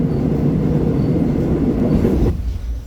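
A Seoul subway Line 1 train runs through a winter landscape with a loud, steady rumble and low rolling clatter, which abruptly drops to a quieter hum near the end.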